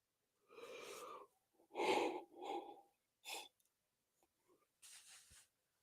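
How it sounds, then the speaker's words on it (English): A person yawns, drawing in and letting out several breathy, drawn-out exhales with short gaps between them, quiet and close. "I'm yawning a lot"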